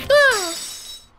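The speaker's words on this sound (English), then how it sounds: "Oh, I broke her glass." Glass shatters in the courtroom video game Phoenix Wright: Ace Attorney Justice For All, a single sharp crash followed by a bright, ringing tinkle that fades over about a second.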